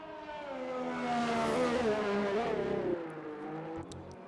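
A drift car at the D1 Grand Prix in Japan revs hard, its engine note climbing and wavering in a loud, sustained howl that swells then eases off with a touch of tyre scrub.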